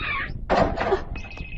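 A mobile phone rings in a cartoon scene, a bright electronic tone that starts, breaks off under a couple of heavy bumps, then resumes as a steady high trill.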